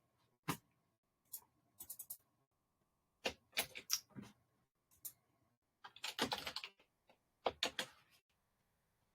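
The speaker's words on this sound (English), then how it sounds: "isn't this fun watching me type?" Typing on a computer keyboard comes through as sparse clusters of sharp clicks and short bursts of keystrokes with quiet pauses between them, close and fairly soft.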